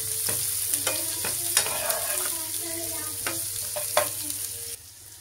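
Chopped onion sautés in a pan for Maharashtrian baingan bharta, a steady close sizzle broken by repeated sharp scrapes and knocks of a spatula stirring, with no talking.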